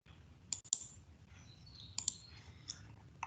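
A computer mouse giving a few sharp, quiet clicks, some in quick pairs, spaced apart over a faint background hum.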